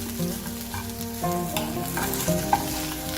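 Egg and okra thoran with turmeric is stir-fried in a pan, with a steady close sizzle under repeated scraping and stirring strokes and small clinks of the utensil.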